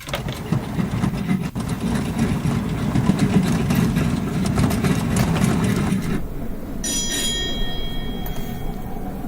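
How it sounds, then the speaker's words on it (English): Airliner engines idling in Microsoft Flight Simulator 2020: a steady, loud broadband drone that holds evenly, then thins out near the end as a brief high electronic chime sounds over it. "Alright, all engines idle."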